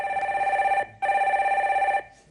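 Two long warbling telephone rings sound loud and near for a call coming in to a live stock-market broadcast, separated by a brief silent gap, with no voices.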